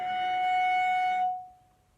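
A cello harmonic on the D string, stopped lightly with the third finger, rings as a single clear, bright tone for about a second, then its upper partials cut off and a faint pure pitch lingers and fades.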